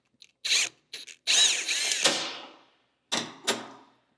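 A power tool whirs in short bursts while removing the clutch cable clamp on a 100th Anniversary Harley-Davidson Sportster, several brief spins and one longer run that winds down, close and alone.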